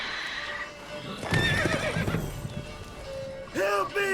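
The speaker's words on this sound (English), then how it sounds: "Whoa there, Roach." In The Witcher 3 video game, the horse Roach gives a loud whinny with clip-clopping hooves, and a second whinny follows near the end while a voice talks.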